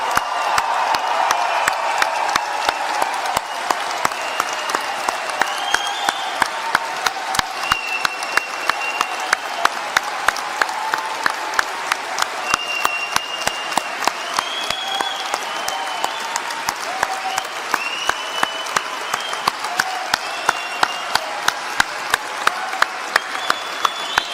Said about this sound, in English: So everyone in the room, let's applaud.